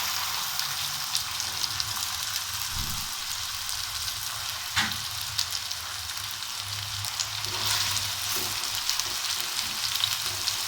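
Okra (lady finger) fries in hot oil for crispy bhindi, a continuous bubbling sizzle heard up close with a few soft clinks and stirring knocks over it.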